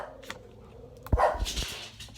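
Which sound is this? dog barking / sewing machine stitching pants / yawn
dog barking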